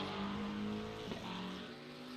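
Simulated race cars in iRacing, including a Ferrari 296 Challenge, run down the straight at Road America, a steady engine drone with harmonic whine holding level, a brief blip midway as cars close together.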